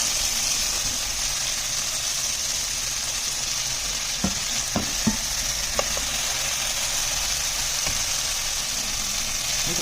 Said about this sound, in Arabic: هسيب الفلفل يتحمر فيه.